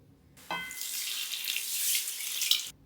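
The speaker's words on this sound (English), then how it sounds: "Then you're going to pour in about 3 cups of milk." About three cups of milk pour steadily into a bowl, a continuous splashing rush lasting a couple of seconds, close and clear, swelling slightly before stopping abruptly.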